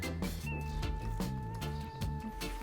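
A cat meows in the Warframe video game, a tonal cry set over a steady bed of layered, music-like game tones that carry on throughout.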